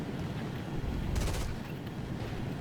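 Rapid machine-gun fire from an F-86F-25 jet in an air combat video game, a short dense burst standing out over a steady roar of engine and rumble.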